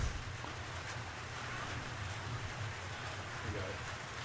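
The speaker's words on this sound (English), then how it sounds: "Rain intensity has picked up a little bit more now." Steady rain pours over a college baseball field during a game, a dense, even hiss with a low rumble beneath it that never lets up.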